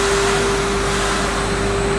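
A steady, loud hiss and drone from a dry pet food coating machine as its vacuum is released, with a constant hum and no break over two seconds.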